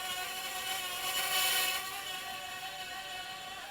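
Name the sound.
JJRC/Eachine H8 Mini quadcopter drone motors while yawing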